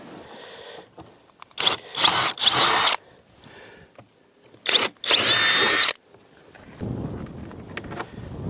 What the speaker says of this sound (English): Drills.